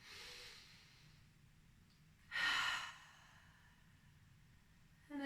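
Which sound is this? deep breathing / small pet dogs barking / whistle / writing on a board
deep breathing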